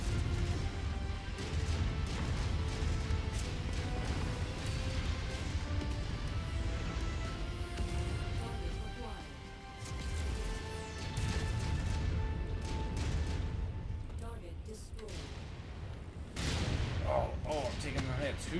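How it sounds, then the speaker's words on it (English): An SRM carrier fires a barrage of missiles at a player's mech in MechWarrior 5, producing continuous loud blasts, crashing impacts and mechanical rumble, dipping briefly midway before resuming, with someone talking over the action. "Oh, I'm taking the hits. Who's shooting me? Oh, it's an SRM carrier."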